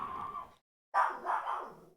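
A household dog barks nearby in short bursts, one bark, a pause, then a quick run of two or three more, reacting to a worker using a water hose for next door.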